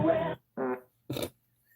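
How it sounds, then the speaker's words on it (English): Three short flatulent bursts in quick succession, each under half a second, close and moderately loud with brief silences between them. "He gets in the fart catalog"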